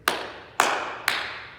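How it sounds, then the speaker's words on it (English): Three sharp hand claps evenly spaced about half a second apart, close and crisp in a quiet room, each decaying quickly. "3 claps on me."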